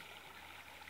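A flowing water source in a survival game gives off a soft, steady gurgling rush, continuous and close, heard alone without talk.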